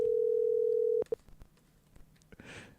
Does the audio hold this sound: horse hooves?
no